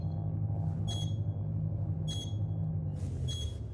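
A ship's alarm in a video game gives three short, high, bright beeps about a second apart, sounding over a steady low engine drone.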